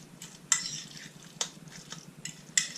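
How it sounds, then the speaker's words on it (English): Ingredients stirred together in a bowl: a steady scraping, swishing rasp with a few sharper clinks of the utensil against the bowl, close and fairly quiet, with no voices. "all it is now is a case of stirring it all together"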